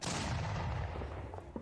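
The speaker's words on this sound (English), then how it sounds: "The gunshot every time" A single booming gunshot sound effect goes off during a tabletop Dungeons and Dragons session, a loud blast with a decaying rumbling tail.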